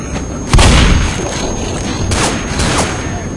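Tank infected in Left 4 Dead, heard as heavy booming thuds and rumbling impacts, one loud hit followed by several quieter ones, with no one talking.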